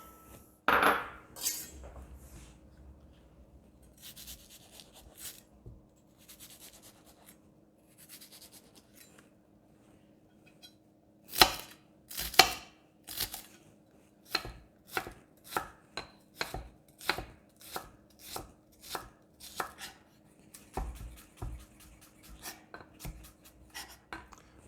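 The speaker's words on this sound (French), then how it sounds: "on va émincer les échalotes et la coriandre. On va commencer par les échalotes" A knife chops shallots on a board in sharp, close, crisp strikes: a few scattered cuts early, then a steady rapid run of evenly spaced chops, alone without talk.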